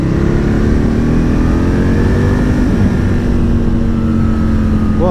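Aprilia RSV Mille R motorcycle on an Isle of Man ride, its engine droning loud and close with a steady high whine, pitch shifting slightly as it revs, wind roar underneath.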